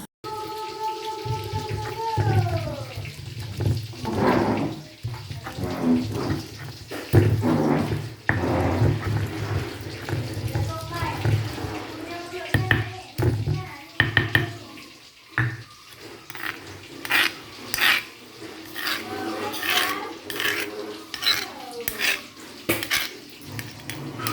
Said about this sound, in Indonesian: Jadi nih aku tuh mau cuci blendernya.